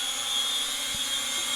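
A tiny JJRC H111 mini drone hovers indoors in a small room, giving off a steady high-pitched buzzing whine from its propellers at close range with no talking.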